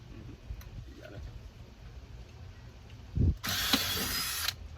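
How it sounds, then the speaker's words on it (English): A power drill fitted with a 1/2-inch bit whirs loudly for about a second near the end, after quiet handling noises and a brief thump. "So this is a 1/2-inch drill bit."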